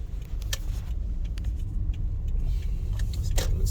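A car rolls down a steep hill in second gear with the brake released, a steady low engine and road rumble with small interior rattles and clicks, no one talking.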